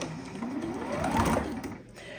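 Close, continuous whirr of a sewing machine stitching fabric strips for a scrappy rectangle string quilt block, with the motor humming steadily and fading slightly toward the end.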